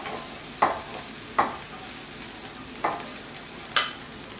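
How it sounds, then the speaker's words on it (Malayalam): Rice stirred into a hot pan of sizzling masala for prawn rice, with four distinct scraping strokes of a spoon spaced over a soft, steady frying hiss. "റൈസ് ആഡ് ചെയ്യുവാണ്."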